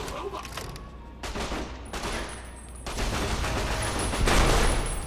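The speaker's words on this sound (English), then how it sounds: "this robot is shooting me" A hostile robot fires at the player in the video game Fallout New Vegas, producing sustained bursts of loud rapid gunfire that swell and intensify, with brief gaps between volleys.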